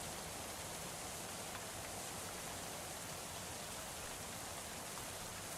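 Hail falling in the medieval colony game Going Medieval: a dense, even hiss of countless small impacts, steady and unbroken throughout at a soft, constant level.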